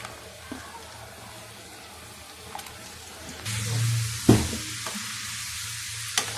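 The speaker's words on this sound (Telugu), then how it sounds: "ఇలా మనం పాన్ పెట్టుకున్న గవ్వలన్నీ డీప్ ఫ్రై చేసుకుందాం." Gavvalu sweets deep-fry in a pan of hot oil, giving a steady low sizzle with occasional louder bubbling bursts and stirring clinks, with no voices.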